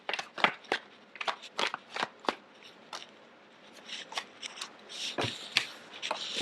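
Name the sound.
drawing tarot cards from a deck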